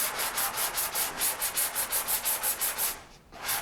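Sandpaper on a sanding block rubs back and forth over car bodywork, about fifteen quick even rasping strokes in a steady rhythm, close and clear, then a brief pause and one more stroke.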